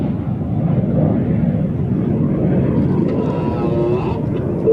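A Red Arrows display jet, Red 9, climbs overhead with a loud, steady jet roar that holds for several seconds, with a faint voice underneath.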